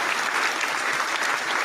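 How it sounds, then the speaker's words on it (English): Brief burst of dense clapping from a small audience greeting a prize winner's announcement during a podcast recording, loud and sustained without voices over it. "Is that applause? That's applause."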